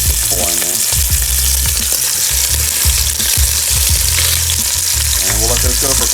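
Beef ribs brown in hot oil in a pot with a loud, dense sizzle and spatter. Scraping and shifting sounds come up close, and no one speaks.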